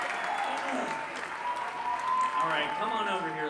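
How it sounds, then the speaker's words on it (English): A live crowd at a comedy talk show claps and cheers in a dense, sustained wash of applause while someone talks over it. "Listen to that crowd roar, you guys."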